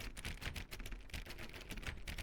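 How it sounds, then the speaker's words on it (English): A door is clicked on over and over in The Stanley Parable: Ultra Deluxe, producing a quick, steady run of sharp, close clicks without pause. "Now suppose you were to click the door 20 times."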